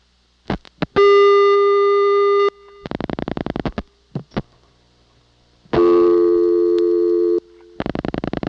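Dialing and call-progress tones on a 1982 Siemens telephone switch in Ocala, Florida: a couple of short clicks, then alternating bursts of steady multi-tone signal and rapid pulsed beeping, loud and close with no talking.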